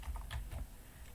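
Keystrokes on a computer keyboard typing a short statistics function name, a quick burst of several close, crisp taps that slows and trails off toward the end.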